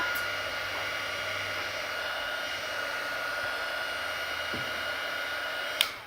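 A hair dryer blows steadily to dry alcohol ink on a playing card, a loud continuous close-up whoosh with no break, ending in a brief click as it shuts off.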